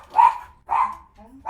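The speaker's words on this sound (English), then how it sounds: "Dog's going crazy because Amy just got home" A dog barks excitedly as someone arrives home, giving two loud, close barks in quick succession followed by a short whine and the start of another bark.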